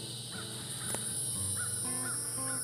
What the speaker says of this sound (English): See if we can see a crow